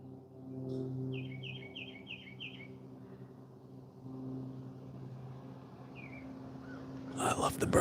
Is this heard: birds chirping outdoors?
yes